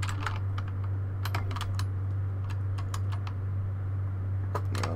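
Typewriter keys clack at a save room in the Resident Evil 2 video game, a burst of irregular sharp strikes over a steady low hum, with scattered clusters across the stretch.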